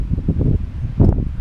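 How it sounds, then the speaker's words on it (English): Gusty wind buffets the open summit of Twin Mountain in the Catskills along the Devil's Path, a steady rushing roar with a stronger gust toward the end, close to the microphone. "A little breezy."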